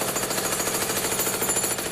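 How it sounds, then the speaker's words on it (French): A jackhammer pounds continuously at close range, a loud, dense rapid hammering that fills the whole stretch without pause or voices. "Marteau-piqueur"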